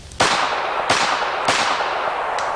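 A Colt Cobra revolver fires 148 grain hollow base wadcutters in four sharp, loud cracks at uneven intervals. Each report rings briefly before the next, and the last shot sounds fainter.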